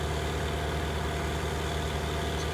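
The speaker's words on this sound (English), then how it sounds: "So I jump into the tractor. It says New Holland T8 435." A New Holland T8 435 tractor engine idles steadily in Farming Simulator 19, a constant low, dense rumble with no talk.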